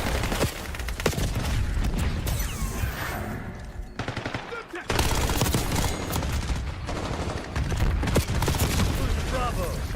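Dense, chaotic rapid gunfire from a Call of Duty match, bursts of shots crowding together almost nonstop with a brief lull midway, loud and close with a player's voice talking over it.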